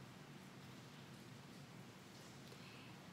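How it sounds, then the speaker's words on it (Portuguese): Heavy rain pours down outside a house, a dense, steady hiss that holds evenly for the whole stretch with no breaks or distinct drops. "Dá pra escutar a chuva aqui em casa?"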